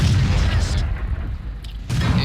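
In the World of Tanks video game, a KV-13 tank's gun shot strikes the player's Tiger II, a loud, heavy boom with a broad rumbling crash that dips briefly and then swells into a second impact burst.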